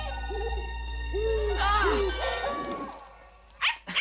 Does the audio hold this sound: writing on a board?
no